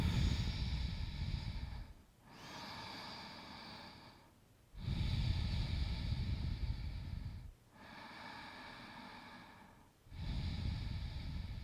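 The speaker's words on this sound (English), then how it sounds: "Three deep belly breaths." Slow, deep belly breaths taken during a seated yoga twist, each long inhale and exhale clearly audible and close, alternating in a steady rhythm of about four breaths with no talking.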